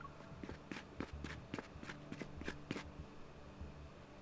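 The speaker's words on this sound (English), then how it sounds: "The footsteps grow louder as they approach." Footsteps approaching in the video game Love and Deepspace, a steady run of distinct soft steps that fade out toward the end, heard alone over a faint background hum.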